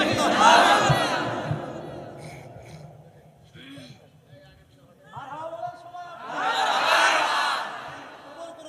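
A crowd at an Islamic gathering roars a takbir chant in answer to a leader's call, a loud burst at the start and another swell near the end, with someone talking between them.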